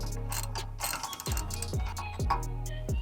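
A puller tool spins on a nut in quick ratcheting clicks, with sharp repeated metallic ticks and a few heavier clunks in an uneven rhythm, close and clear with no talking.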